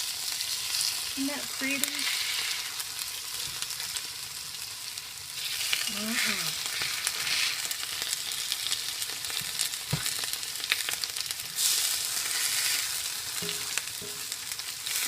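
Food frying in a pre-seasoned cast iron skillet gives a steady, close sizzling hiss that runs throughout, with a few soft clinks and a brief remark from a person speaking.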